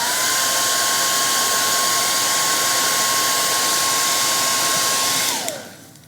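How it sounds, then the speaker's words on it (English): A hair dryer blows steadily and loudly, drying stencil paint on a wooden sign, with a constant whine that winds down at the end as it is switched off. "I'm gonna blow dry this so it's dry"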